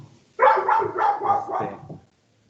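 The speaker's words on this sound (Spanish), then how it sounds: "encerré al perro, pero aún así como quiera está ladrando" A shut-in dog barks from another room, a quick run of about five muffled barks packed into under two seconds, fairly loud and alone, then silence.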